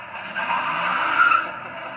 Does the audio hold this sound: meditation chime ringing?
no